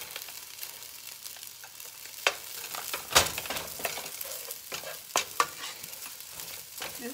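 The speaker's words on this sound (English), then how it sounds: "I'm going to add some rice to the pot" Rice and eggs fry in a pot while being stirred, a steady sizzle broken by scraping and clinking of the utensil against the pot, close and without talk.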